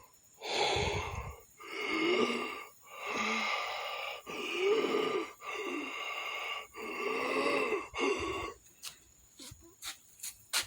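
A voice imitating heavy breathing, with about seven long, loud, rasping breaths in a slow, steady rhythm, close to the mic and alone, followed by a few sharp clicks.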